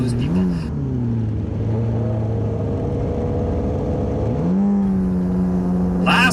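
Classic superbikes at an AFM Classic Superbike Racing Club race start, engines revving and surging as the pack pulls away together, a steady loud mechanical drone whose pitch climbs as they accelerate.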